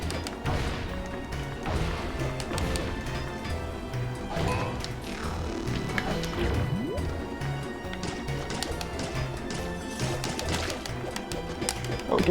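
A pigeon-like bird coos among busy game sounds in Ghosts 'n Goblins Resurrection, with thuds and crashes and background music running throughout at a steady level.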